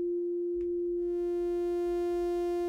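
The Regency free synthesiser plug-in sustains a single steady F note, a pure tone that brightens about a second in as richer upper harmonics fade in, with a soft low rumble beneath.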